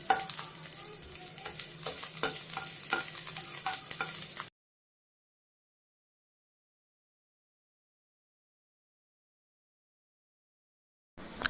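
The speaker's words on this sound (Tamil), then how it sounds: "இப்போ ஒரு பாத்திரத்தில் எண்ணெய் ஊற்றிட்டு பொடியாக நறுக்கின பூண்டு நான் சேர்த்துக்கிறேன்" Finely chopped garlic frying in oil in a pan until browned, sizzling and crackling steadily up close for about four seconds, then cutting to silence before a brief sizzle returns at the very end.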